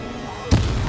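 A single sharp explosive blast from the Bombarda spell in the video game Hogwarts Legacy, a sudden close boom with a short rumbling tail over a steady background hum.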